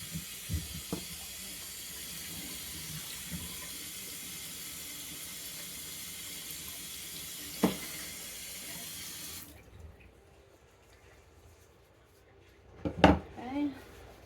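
A tap runs steadily into a sink while a face is washed with a rag and Dove Beauty Bar, a soft continuous hiss that stops abruptly, followed by a few faint knocks and splashes.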